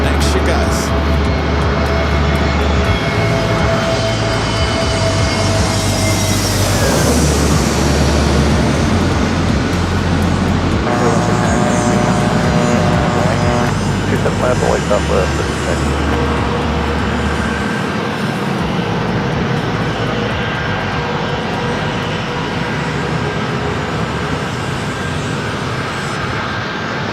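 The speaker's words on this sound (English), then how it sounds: "flight arriving, American Airlines flight 1621, coming in from Philadelphia" American Airlines airliner arriving at San Diego airport, a loud, steady jet roar that swells and falls across the whole stretch with a broad rumble and whine, mixed with surrounding airport and traffic noise.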